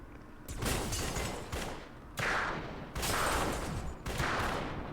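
Gunfire in the video game Eat Lead: The Return of Matt Hazard, likely from a Magnum or six-shooter: four loud, close blasts about a second apart, each trailing into a noisy rumble.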